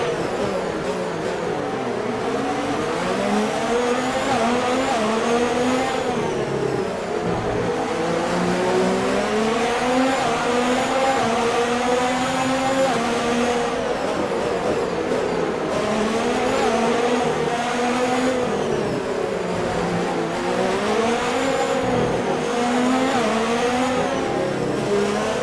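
Formula One race car engine screaming on track, a continuous loud high-pitched whine rising and falling through gear changes and revs with occasional tyre squeal, no talk.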